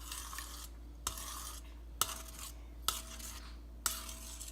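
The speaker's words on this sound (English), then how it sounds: "we just stir, stir, stir until all of this good honey is mixed into this elderberry" A spoon stirs honey into homemade elderberry syrup in a pot or jar, clinking against the side in a steady rhythm about once a second over a low, constant background hum.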